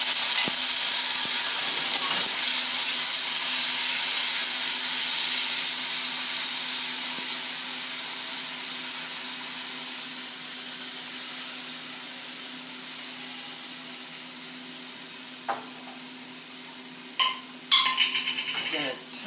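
A tablespoon of garlic sizzles in a skillet, starting as a loud, broad hiss that slowly fades over many seconds, with a few clinks of utensils near the end.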